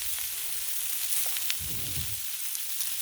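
Sweet corn frying in bacon grease on a Blackstone griddle gives a steady, close sizzle and crackle, with a brief burst of louder low sputtering partway through.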